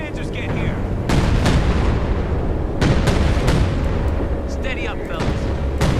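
Artillery fire from a WWII video game battle against German forces, with repeated heavy booms and rumbling blasts at close range, voices talking over the din.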